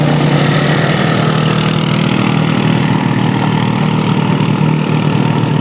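A motorcycle engine labours up a steep 23% gradient at about 8 km/h, its clutch lining burning. It makes a loud, close, steady droning growl that holds without letting up and has no talk over it.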